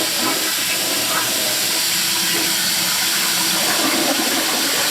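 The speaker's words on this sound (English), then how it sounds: "Toilet." A household toilet in a Florida home flushing, a steady loud rush of water with a hissing, swirling wash that carries on evenly from start to finish.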